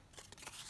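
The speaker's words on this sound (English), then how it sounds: "I'll just cut that white edge off" Scissors trimming a white edge off a sheet of paper, one short quiet snip that is close and brief.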